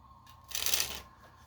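A deck of playing cards gets a single quick riffle shuffle, a brief, close, papery burst lasting about half a second in an otherwise quiet room.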